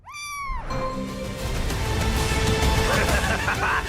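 A cat in a film scene lets out one clear, rising-and-falling meow at the start. Dense, loud background sound from the scene follows it.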